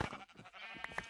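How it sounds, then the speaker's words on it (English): A sheep in Minecraft bleats in a short, quiet, wavering cry lasting about a second, with faint background sound around it. "kill the sheep"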